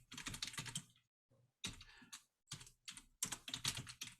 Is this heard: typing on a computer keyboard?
yes